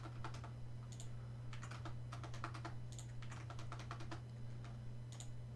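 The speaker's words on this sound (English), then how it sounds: "Only I could type like a normal human being" Someone types on a computer keyboard in quick, uneven bursts of close keystrokes over a steady low hum.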